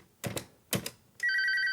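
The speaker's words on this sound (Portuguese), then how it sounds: "Um toque." A telephone gives two sharp clicks, then its steady electronic ring starts and holds alone, close and clear.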